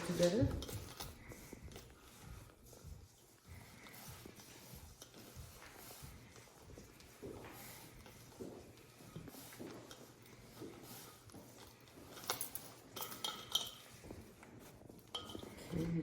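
Bannock dough ingredients are mixed together in a bowl: quiet, continuous scraping and stirring with occasional clinks of utensil against dish, with faint voices in the background.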